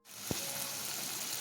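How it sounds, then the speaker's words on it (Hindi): Garlic ginger paste hits hot ghee with a sudden sizzle that jumps up from silence, one brief clack from the pan, then a steady loud hiss. "अब इसमें मैं ऐड करूँगी यहाँ पे गार्लिक जिंजर पेस्ट और इसे मैं ऑयल में कुक तब तक करूँगी जब तक ये अपना कलर चेंज ना कर ले"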